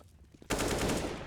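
Sudden burst of automatic rifle fire in Counter-Strike on the Inferno map during a pro match, loud and dense, following quieter ambient game sounds and continuing steadily to the end.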